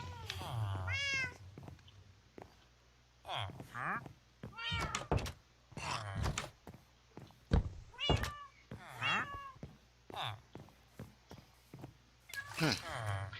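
A cat meows repeatedly in short rising cries, close and fairly clear, scattered between knocks and thumps, with a person talking at times.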